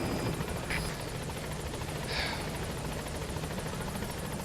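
The aircraft engine in Metal Gear Solid V drones steadily as a whirring rotor-like hum, continuous and fairly loud with faint chopping pulses throughout.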